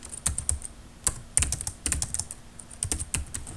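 Rapid clicking of keys on a computer keyboard while a line of Java code is typed, irregular bursts of close, crisp keystrokes with short pauses, no talking.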